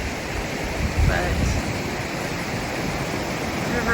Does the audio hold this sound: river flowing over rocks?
yes